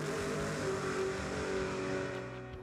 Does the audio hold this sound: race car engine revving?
yes